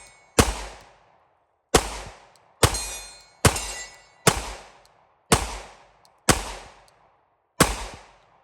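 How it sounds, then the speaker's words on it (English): Eight sharp 9mm shots from a PSA Dagger pistol fitted with an RMR sight, each crack ringing briefly before the next, fired singly at an even, unhurried pace, close and loud with no talking. "It shoots anyway."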